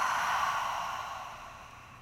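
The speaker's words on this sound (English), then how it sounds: "Open your mouth, exhale." A single long breath is exhaled slowly through an open mouth during bedtime yoga, soft and airy, fading gradually over about two seconds.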